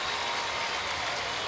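Dense, steady roar of a huge crowd cheering inside the Louisiana Superdome before a Rummel Raiders vs. West Monroe Rebels Class 5-A state high school football game, broad and continuous with no breaks.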